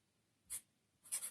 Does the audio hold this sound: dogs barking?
no